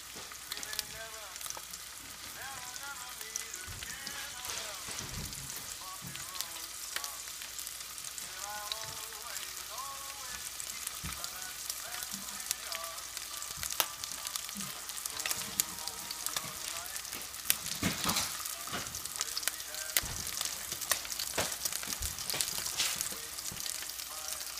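Food sizzles and fries steadily in a pan during a tomato sauce cooking session, with a continuous crackling hiss and occasional stirring clicks throughout.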